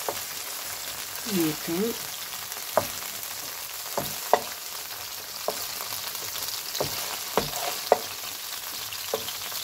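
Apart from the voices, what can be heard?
onions, mushrooms and peppers sizzling in a pan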